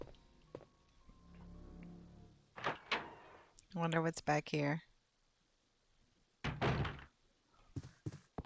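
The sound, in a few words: door opening in video game Resident Evil 2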